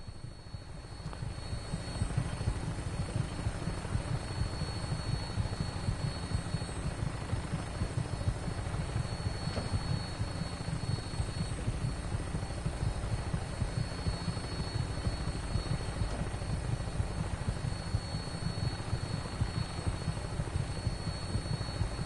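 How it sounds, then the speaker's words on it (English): A helicopter flies in the Fallout 4 video game, a constant low rotor and engine drone with a faint high whine holding steady for about twenty seconds, with no talking over it. "I'm in a helicopter."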